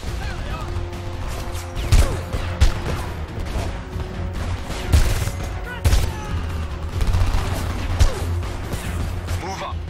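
Gunfire in the shooter Homefront, scattered heavy shots and bursts over a busy battle soundscape, with occasional louder close impacts.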